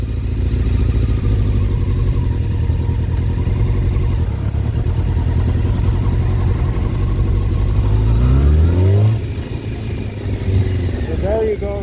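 A 2000 Honda CBR600F4 (PC35) with a low-RPM bogging and stalling fault idles with a steady, close rumble, then rolls away purely on the clutch without throttle, its low engine note straining and shifting near the end.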